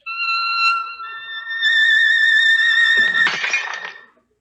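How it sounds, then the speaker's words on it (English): A violin bow sustains a steady high tone at the pitch of a champagne glass on a mantelpiece, then the glass suddenly shatters with a sharp crash and scattering tinkle of shards before falling silent. "There, the glass shatters across the room."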